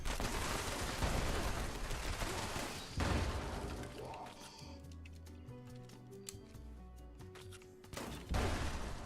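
Gunfire in the Fallout 76 video game, a loud rapid burst of shots and impacts up front, then a quieter gap with scattered clicks and game tones before another sharp shot near the end.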